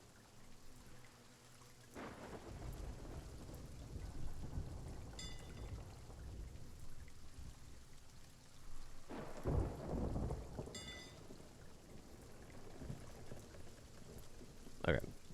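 Rain pouring and rolling thunder in a Sea of Thieves storm at sea, steady hiss of rain on surfaces with two loud thunder crashes building and fading, plus faint distant rumbles.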